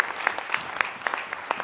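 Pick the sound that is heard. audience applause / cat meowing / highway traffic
audience applause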